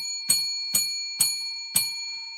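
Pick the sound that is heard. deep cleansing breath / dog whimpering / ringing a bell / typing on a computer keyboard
ringing a bell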